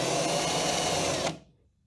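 A power drill runs at steady high speed through a card held against a Cybertruck's camera area, a loud continuous whirring drone close by that winds down and stops near the end.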